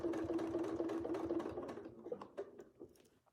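A sewing machine hums steadily through free-motion quilting, its rapid stitching loud and continuous for over a second before thinning into shorter, uneven bursts as the pace slows.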